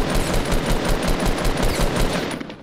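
Rapid automatic gunfire in the Fortnite Battle Royale video game, a loud sustained burst of evenly spaced shots in quick rhythm, close and dominant, tapering off at the end.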